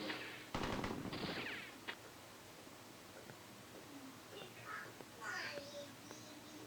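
A machine gun fires a rapid burst of about a second and a half in the action film Max Helms: Curse of the Relic, followed by quieter scattered sounds and faint voices.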